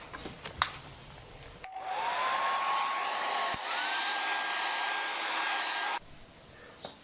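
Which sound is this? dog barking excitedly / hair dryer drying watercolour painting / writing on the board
hair dryer drying watercolour painting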